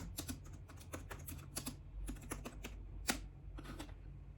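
A computer keyboard is typed on steadily in quick bursts of soft clicks with short pauses, fairly quiet and close, with no voices.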